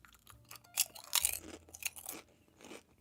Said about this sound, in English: Oh, you want another crunch?